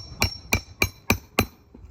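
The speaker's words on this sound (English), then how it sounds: "just by hammering on the roof" Five evenly spaced, sharp hammer blows on a roof, close and crisp at roughly quarter-second intervals, followed by a faint sixth tap.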